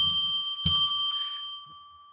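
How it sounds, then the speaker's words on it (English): A single bell strike rung to declare sacred space on a psychic radio show, a clear metallic ding that rings out and slowly decays, with a brief bit of talk just before it. "I'm going to ring a bell 3 times now to declare sacred space"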